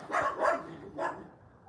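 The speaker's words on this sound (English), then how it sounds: "And so that gets all the dogs excited, and they bark and go like that." Dogs bark in a quick group of three sharp, mid-distance woofs, two close together and then one more after a short gap, with no other sound around them.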